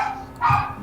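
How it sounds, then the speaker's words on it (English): A dog gives a single short bark, loud and near, lasting under a second. "apparently there's dogs"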